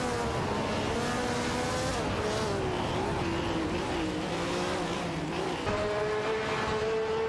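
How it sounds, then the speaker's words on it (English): A racing car speeds away on a track, its engine a steady continuous drone with rising and shifting pitch, loud and constant throughout with no voices. "Racing car dashing away."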